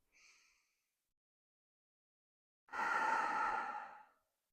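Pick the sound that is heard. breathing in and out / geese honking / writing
breathing in and out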